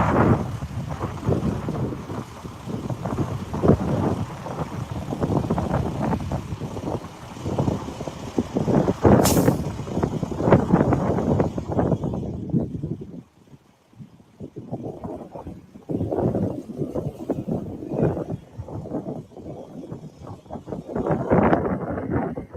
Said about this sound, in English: You hear the wind.